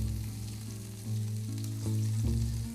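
Meatballs frying in a pan for spaghetti and meatballs, a steady close sizzle with a few soft knocks and shifts as they are turned, no voices.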